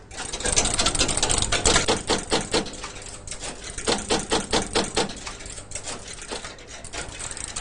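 The Harwell WITCH computer starting up and reading a paper tape program, giving a rapid mechanical clattering and chattering that pulses in quick bursts, loud and close, continuing throughout.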